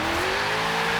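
A Ferrari Turismo hatchback in Forza Horizon 3 driving at speed, a loud sustained engine note that climbs slightly in pitch with faint tyre noise, close and continuous.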